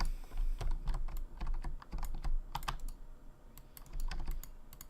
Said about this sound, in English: loud and annoying mouse clicking and keyboard clicking that you're hearing in all my videos up until now